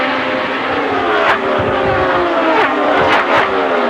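Indy 500 race cars at speed during the 2000 race, a continuous loud high-pitched engine drone with several cars whining past, pitch shifting as they pass, no talk over it.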